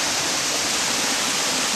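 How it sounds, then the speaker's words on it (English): A waterfall in Ireland rushes as a steady, broad roar of falling water, loud and unbroken for the whole moment. "That's where the waterfall comes from."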